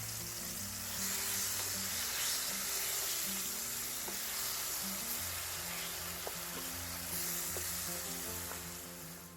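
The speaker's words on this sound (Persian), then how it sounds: "داخل تابه‌ای که روغن زیتون ریختیم و داغ شده بادمجونا رو میریزیم." Eggplant pieces frying in hot olive oil in a pan, giving a steady, loud broadband sizzle that holds throughout with a few faint clicks of utensils and low hum underneath.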